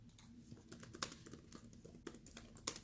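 Soft, scattered key clicks on a computer keyboard, faint and close, come in uneven bursts with a few sharper taps and no talking.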